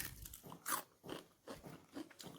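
Someone bites into a crispy Egyptian Eid pastry, giving several close, soft crunches in a steady rhythm. The crunches are quiet, with no talk over them.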